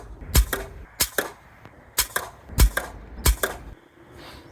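JSB pellets are fired from an air rifle, giving six sharp, close cracks at roughly even intervals of just under a second, each followed by a faint, short secondary tick.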